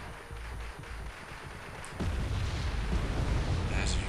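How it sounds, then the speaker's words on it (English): Artillery barrage in the war video game Wargame: European Escalation, a muffled rumbling of distant blasts that swells into a denser, louder roll of booms partway through. "right here I'm getting an artillery barrage"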